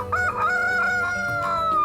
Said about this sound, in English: It's quite a difficult thing to get them to crow.